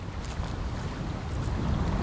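Sailing canoe running before a tailwind across the top bay of Sturgeon Lake in Quetico wilderness, a steady broadband rush of wind and water noise, close and fairly loud, with no voices.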